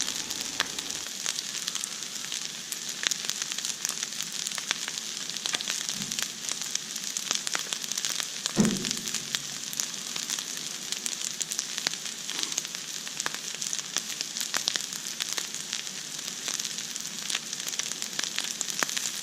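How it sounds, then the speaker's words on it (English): Garlic and ginger cook slowly on a flat griddle, giving a steady, even sizzle with faint crackles and a couple of soft knocks, close and continuous, no voices. "I love slow cooking the garlic and the ginger."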